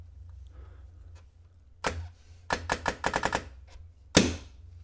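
A Dye DSR paintball marker with an ARC Bolt cycles and fires. Sharp single pops are followed by a quick string of about seven rapid shots and then one more loud shot, all close and distinct over a low background hum.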